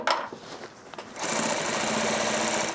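A sewing machine runs a steady, fast stitching burst as it sews the final seam over backpack straps, grab handle and lid, following a few scattered fabric-handling clicks and taps.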